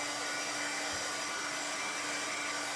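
A hair dryer blows steadily and loudly to dry paint on a mixed media art piece, a constant broadband whoosh with a faint hum, without speech.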